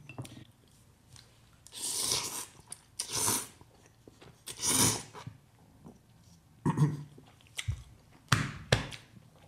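Close, wet chewing and slurping of thick, bouncy spicy Jin Ramen noodles comes in several loud bursts separated by quieter pauses, with no talking.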